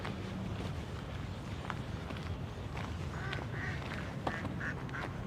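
A duck quacking at a pond on the National Mall: a few faint, short quacks come in the second half over a steady outdoor background of wind and distant city noise.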